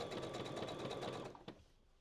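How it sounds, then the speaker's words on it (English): A sewing machine stitches in a fast, steady whir with rapid needle clatter, running close and loud for over a second before stopping with a small clunk and falling to quiet room noise. "We'll sew a little bit and then we'll check it out."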